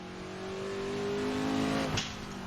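A 1960s Le Mans racing car in Assetto Corsa holds a loud, steady engine drone that climbs in pitch under acceleration, then a brief gear change or lift near the end, close and continuous with no talking.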